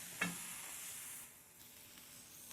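A ribeye steak searing on a griddle pan, a soft steady sizzle with one small sharp crackle near the start, fairly quiet and close, with no voices.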